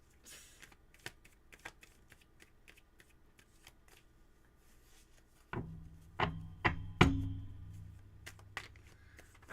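Tarot cards shuffled for a reading: light sparse card flicks first, then a louder close riffle with several sharp slaps and thumps toward the end, no talking.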